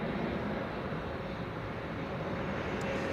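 A Nippon Cargo freighter taxiing at Amsterdam Schiphol Airport toward runway 09, a steady broadband engine rumble and whine held at constant level throughout, distant and continuous with no voices.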